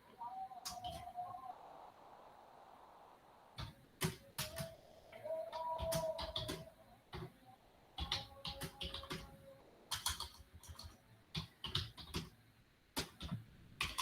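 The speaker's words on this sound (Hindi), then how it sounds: "मैं आपके सामने 2 प्रिंट स्टेटमेंट्स टाइप करूंगा" Typing on a computer keyboard while entering Python print statements, with quick irregular bursts of close key clicks separated by short pauses, plus a faint tonal hum in the background.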